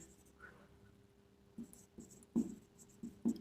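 Chalk or marker strokes on a classroom board during an English lesson: quiet, scattered taps and scrapes that grow sharper and more frequent toward the end, with no voice.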